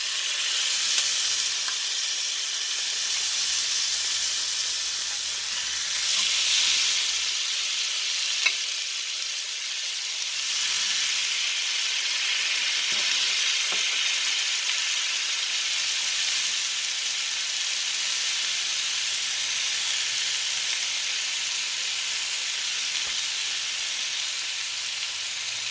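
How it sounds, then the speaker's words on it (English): Pieces of beefsteak fry in hot oil with a loud, steady sizzle and hiss that carries on without a break, with occasional faint clatter underneath. "the oil is hot. We are going to add the pieces."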